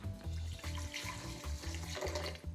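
Water running from a kitchen tap into tahini (sesame butter) for a creamy sauce, a steady close splashing stream with no pauses.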